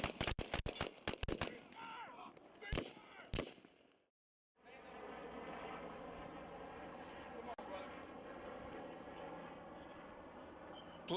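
A police shooting: a rapid cluster of loud, sharp gunshots rings out, then a short silence, followed by a long stretch of noisy, steady background sound with voices.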